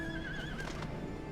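A horse in the video game Final Fantasy XIV gives a single wavering neigh that rises and falls over faint hoof clops and game ambience, fairly quiet and close.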